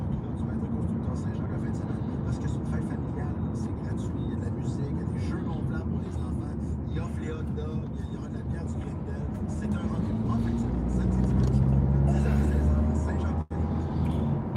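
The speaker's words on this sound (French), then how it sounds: "Ah, il y a beaucoup de circulation" Steady low road rumble and engine drone from inside a moving car in heavy traffic, swelling louder toward the end, with a voice talking over it.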